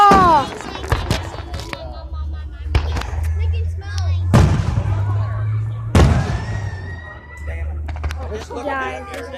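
Fireworks booming loudly at a public display, several heavy sharp bangs spaced a few seconds apart with rumbling echoes, while people shout and talk excitedly between and over the blasts.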